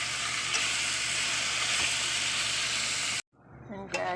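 Red chili pepper fries in hot oil for igado, a loud continuous close-up sizzle that cuts off abruptly near the end, followed by brief clatter and stirring sounds.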